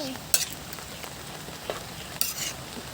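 Ginataang ugob (kamansi) sizzling in a pan as it is stirred, a low steady fry hiss with a few sharp utensil scrapes and clinks.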